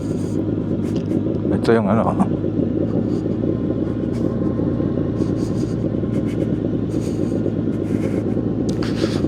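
Kawasaki Z1000R motorcycle on a ride up a road to a mountain view deck, a steady low engine rumble with wind noise running throughout, and someone talking over it.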